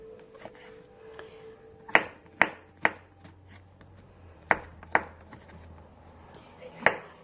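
A knife slices beef stroganoff ingredients on a cutting board, a few sharp, uneven knocks against a quiet kitchen background, with a faint low hum beneath.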